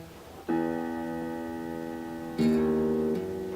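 Two sustained piano E notes, the second struck louder a couple of seconds after the first, each ringing clearly with no talking.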